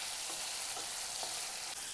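Ginger-garlic paste fries in hot oil on a full flame for egg curry, giving a loud continuous sizzle and crackle with faint stirring scrapes, close up and without talk.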